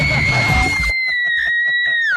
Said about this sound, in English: Hope she's screaming like that later in an alley.